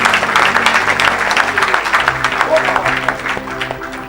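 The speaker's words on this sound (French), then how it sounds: "Tu peux acclamer pour Jésus." A church congregation applauding and cheering for Jesus, a dense continuous wash of clapping with crowd voices mixed in, loud and close, fading slightly toward the end.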